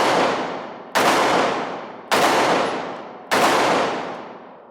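Four loud, close gunshots from a Glock handgun fired by a first-time shooter, each a sharp crack with a long decaying ring, spaced about a second apart.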